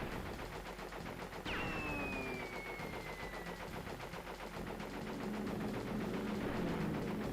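Sustained rapid gunfire from a weapon held down in Crash Bandicoot 3: Warped, a continuous rattling burst running throughout, with a descending whistling sweep cutting in early on.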